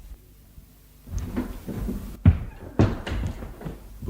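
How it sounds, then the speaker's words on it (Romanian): A door opens in a radio-theatre play, a short creak and thud standing out near and fairly loud, followed by a second knock-like bump over a faint room background. "ușa se deschide și în prag apare un tânăr"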